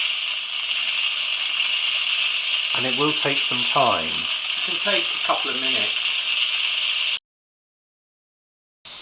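An Instant Pot pressure cooker releasing steam, a loud steady hiss with spluttering bursts, while a person talks over it, before cutting out abruptly.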